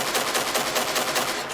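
A weapon in the video game Angels Fall First fires a rapid, continuous automatic burst, close and loud, each shot a quick crack in an unbroken stream with no voices.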